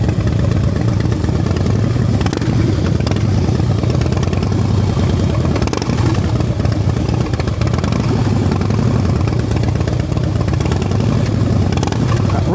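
A motorcycle with fully chromed wheels rolls along at slow speed during a riding-skills practice session in Pennsylvania, its engine chugging steadily and loud from start to finish with small throttle changes and a faint mechanical clatter.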